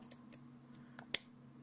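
Small scissors snip coil wire on a rebuildable vape atomizer, giving a few sharp, close metallic clicks spaced out over a quiet background hum, with one louder final cut.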